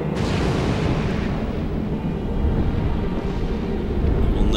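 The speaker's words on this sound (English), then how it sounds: "Firing lasers!" A laser blast fires in the video game Shadow of the Colossus as a loud, sustained roaring rush that keeps up steadily for several seconds and swells slightly toward the end.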